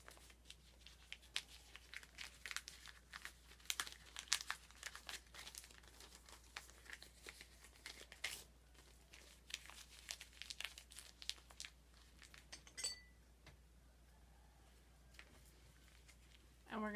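Paper being folded up with close crinkling and crumpling, rustling in irregular bursts and sharper crackles against a low steady hum.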